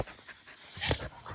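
Dogs panting quickly and softly close by at a campsite at sunrise, a short run of breathy huffs that grows a little louder toward the end.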